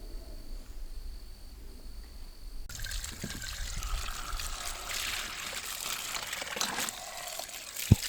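Rainwater trickles and pours steadily for washing alpaca fleece by hand in an off-grid garden, a continuous close splashing that starts abruptly partway through and runs to the end.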